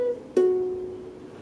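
A single ukulele note tapped on the third string at the second fret rings out clearly and sustains, slowly fading over about a second, heard alone.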